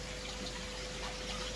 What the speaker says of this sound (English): water hits the top of that plate and it just goes through